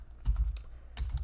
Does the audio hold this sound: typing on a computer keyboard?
yes